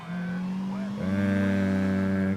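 A car engine in Grand Theft Auto holds a steady hum, then climbs to a louder, higher-pitched drone that sustains at close range.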